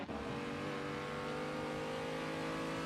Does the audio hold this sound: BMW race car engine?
yes